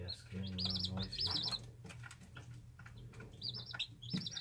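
Baby chicks chirp in quick repeated peeping bursts under faint background murmur, with a short pause before the rapid chirps return near the end.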